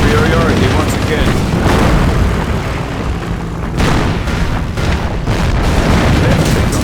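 Henschel aircraft strafing run in Company of Heroes: a dense, loud barrage of booming explosions and rapid gunfire rolls on continuously, briefly easing midway before heavy blasts resume, with a narrator's voice running underneath.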